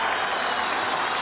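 Football crowd at Glentoran versus Steaua Bucharest roars in a broad, steady cheer as a player is substituted off, a dense wash of distant voices with no break across the short stretch.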